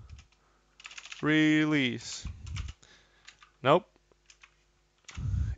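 Short bursts of light clicking come from typing on a computer keyboard. A voice, with sighs and a drawn-out groan, is heard between the soft keystrokes.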